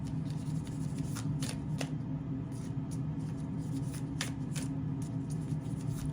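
A deck of tarot cards is shuffled by hand in a steady run of soft riffling slaps and flicks, close up and continuous, over a low room hum.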